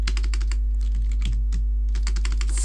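Rapid typing on a computer keyboard while code is written, a dense run of crisp key clicks with brief pauses, close and loud over a steady low hum.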